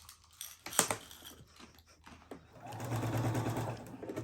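A sewing machine quilts a postcard top onto batting, beginning with light clicks and handling noises, then a close, rapid whirring stitch run near the end.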